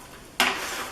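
A spatula scrapes and lifts oven-baked, oil-free shredded hash browns off a non-stick Silpat baking sheet, one sudden close scrape followed by a lighter rustling drag.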